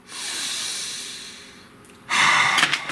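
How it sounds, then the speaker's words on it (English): One deep, slow exhale that fades over about two seconds, followed by a sharp, loud inhale close to the microphone, with no talking. "Breathe."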